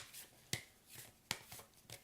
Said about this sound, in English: And then you shuffle up the rest so you know you have matched pairs.